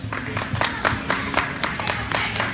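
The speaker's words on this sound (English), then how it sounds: "Give him a big round of applause." Audience clapping at the Timonium Motorcycle Show, scattered, uneven hand claps from a crowd over a noisy hall background, fairly close and lively.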